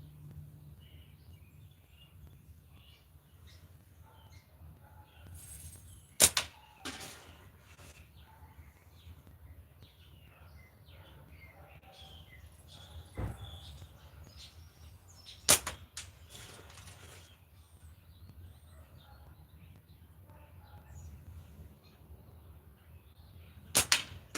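Slingshot ammo strikes a paper target, landing as a few sharp, isolated slaps spaced several seconds apart against a quiet background hum.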